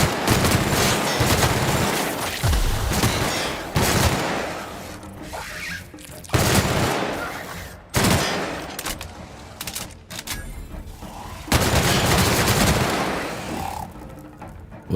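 Rapid automatic gunfire from a new gun in the video game The Outer Worlds, loud dense bursts of shots lasting several seconds each, separated by short pauses, with a brief bit of talk.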